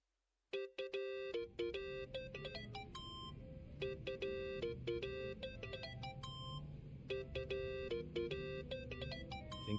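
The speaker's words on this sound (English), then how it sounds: "Think that's your phone," A phone ringtone from the video game Yakuza: Like a Dragon plays a bright, repeating beeping melody that starts abruptly and rings on steadily, loud and close, over a low rumbling game backdrop.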